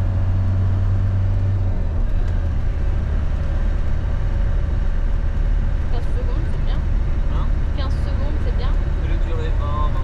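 A camper van on the road produces a steady low engine and road rumble with continuous broadband noise. It is loud and constant throughout, and faint talk sits under it.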